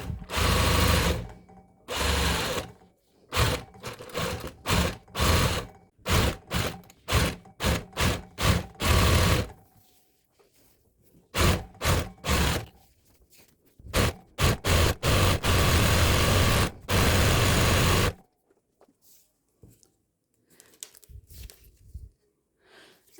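Zigzag sewing machine stitching a cord bag, running in repeated bursts of rapid mechanical stitching with short pauses between, fairly loud and close, then quieter handling at the end.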